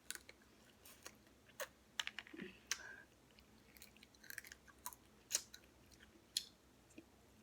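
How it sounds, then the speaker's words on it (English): Someone quietly chews a seafood boil up close: irregular wet crunches and sharp clicking bites spread over several seconds. "I just sit here and chew on that."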